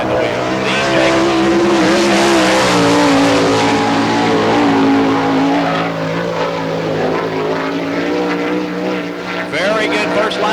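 Sprint car number 92 at Barberville, Florida, in an All Star Circuit of Champions Speedweek race, runs a loud sustained engine drone through a lap, with a steady roar and shifting pitch and an announcer's voice over it.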